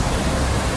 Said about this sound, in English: I've just stopped at the waterfall